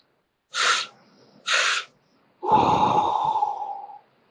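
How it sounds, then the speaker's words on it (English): Two quick, deep inhales through the nose during a breathwork session, then a long relaxed exhale with a breathy sigh, close and alone in a quiet room. "Active, quick, and deep inhales. And contrasting to that is very relaxed exhales"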